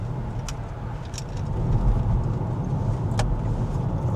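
A car fitted with full self-driving technology rolls along with a steady low engine and road hum from inside the cabin, with a couple of faint light clicks.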